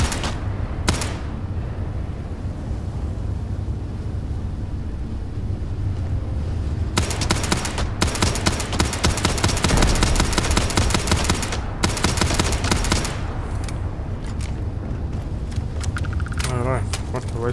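Video game gunfire in a space-themed game: dense, continuous rattling bursts of automatic fire that build and break off several times, loud and close, with a voice talking at points.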